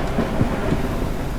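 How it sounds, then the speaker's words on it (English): Thunder from lightning strikes close by in the survival game Forever Skies, a broad low rumble with a few heavier cracks rolling on steadily beneath a rain-like wash, no voices. "Lightning strikes nearby."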